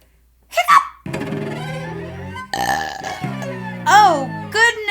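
A dragon puppet lets out a series of voiced burps and hiccups, several loud, drawn-out belches broken by short hiccup yelps, all made by a performer's voice imitating the sounds, with playful vocal tone throughout.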